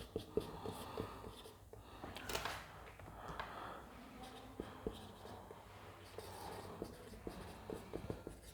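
A marker or chalk writes on a classroom board, giving faint scratchy strokes and light taps spread across a quiet room with a low background hum, without any voice.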